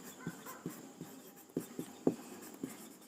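Chalk or marker strokes on a classroom board, a quick series of short scratchy taps and squeaks in an irregular rhythm, close and clear with no talking.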